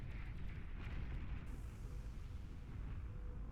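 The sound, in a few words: crawling bomb exploding in Beyond All Reason video game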